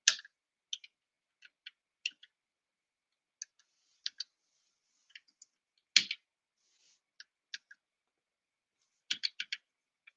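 Sparse, crisp clicks from a mechanical keyboard, single presses and short flurries spaced out over quiet gaps, close and faint.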